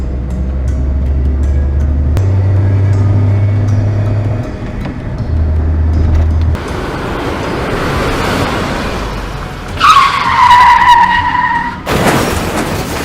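A car driven fast by a learner, its engine droning steadily before a sharp, rising tire screech of skidding bursts out near the end, loud and close with no talk over it.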